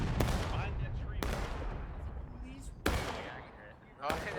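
Artillery and musket fire in the Civil War game War of Rights, a few sharp booming reports spaced apart over a rumbling battlefield, with voices talking underneath.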